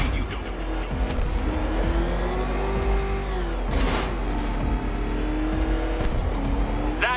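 A car in Batman Arkham Knight roars nearby with engine revs rising and falling, tires squealing and sharp impacts punctuating the steady motor drone throughout.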